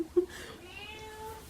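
A pet cat meows once, short and close, indoors, then goes quiet under a low room murmur.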